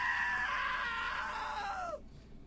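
A long, loud scream from What Remains of Edith Finch rises and then trails downward for about two seconds before cutting off abruptly into near silence.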